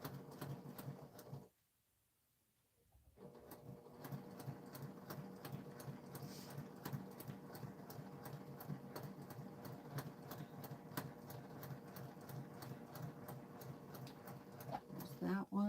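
A sewing machine stitches a floral quilt block with a rapid, rhythmic needle chatter, pausing briefly near the start before resuming steadily for a long run, faint and close.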